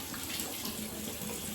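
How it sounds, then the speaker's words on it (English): Water runs steadily from a tap for rinsing, a constant close hiss and splash with no breaks. "use the water to rinse it out of your eyes"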